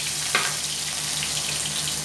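Sliced ginger frying in hot cooking oil in a pan for squid adobo, a steady broadband sizzle with a brief louder crackle near the start, continuous and close.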